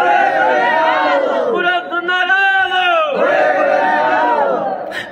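A large crowd at a religious gathering roars a chanted response in unison, loud and sustained with rising and falling pitched voices for several seconds.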